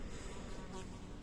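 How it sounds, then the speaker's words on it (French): A fly buzzes close by, a soft, steady drone that holds for a moment on its own. "une mouche virevolte autour de moi"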